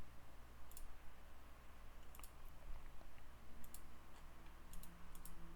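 Sparse, faint clicks of a computer mouse during game play, arriving singly and in quick pairs over a low steady background hum, with no talking.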